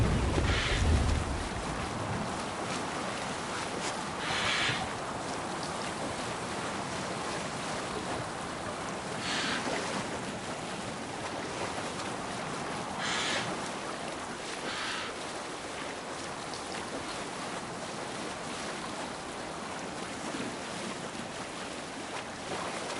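Ocean waves and wind around a sailing longship at sea in the video game Assassin's Creed Valhalla, a continuous washing roar with periodic louder surges, no talking.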